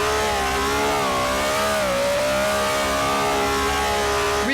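A small car's engine revs steadily in Garry's Mod, a loud close tonal drone whose pitch dips and rises slightly as it tops out, with no talking.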